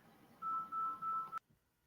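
Telephone tones on an incoming call: a steady electronic beep in pulses, with two brief gaps, lasting about a second, then cutting off abruptly into near silence, clear and close.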